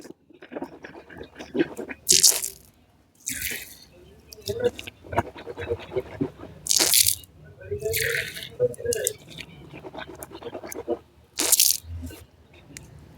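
Water is swished and rinsed around the mouth three times during ablution (wudu), heard as close, wet gurgling and spitting splashes, with a few sharp bursts, over a running tap and trickling water.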